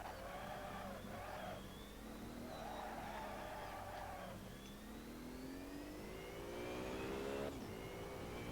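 Race car engines in Assetto Corsa rev and shift through the gears during a race, rising whines breaking at each upshift, steady and fairly loud with overlapping engine tones and no talking.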